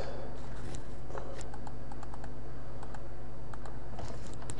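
Close, steady typing on a computer keyboard spells out a short word in a spreadsheet formula, with light clicking keystrokes in an uneven rhythm over a constant background hum.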